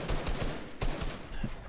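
Rapid bursts of gunfire from a Fortnite battle royale match, several close shots cracking out in quick clusters with a few more scattered after, no voices over them.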